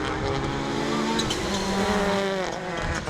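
Rallycross cars race around the Croft circuit, engines roaring loudly and continuously, with shifting revs and tyre noise as they power toward the line.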